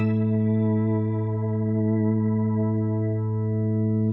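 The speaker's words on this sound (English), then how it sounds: "There's the completely dry organ sound." A sustained, dry organ tone from an Electro-Harmonix C9 Organ Machine guitar pedal held steadily with rich harmonics, then cut off abruptly at the end.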